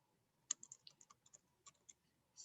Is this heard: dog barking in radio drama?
no